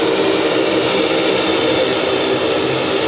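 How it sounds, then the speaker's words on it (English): Dash 8 turboprop airliner engines at Sydney Airport roaring loud and steady, a broad continuous drone with no voices over it. "Wow, these Dash 8s, geez, they're noisy."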